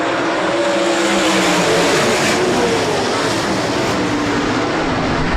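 360 sprint cars of the Midwest Sprint Touring Series roaring off at the green flag at Rapid Speedway, a loud continuous pack of engines revving and climbing in pitch, with no voices over it.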